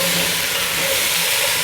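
Two cored, sliced apples hit a hot pan while cooking choucroute garnie, producing a loud, continuous broad sizzle and hiss that holds steady with no talking.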